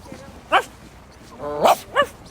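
A person imitating a dog, giving three short, sharp bark-like yelps with brief gaps, close and fairly loud.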